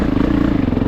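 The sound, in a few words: 450 dirt bike engine during single track riding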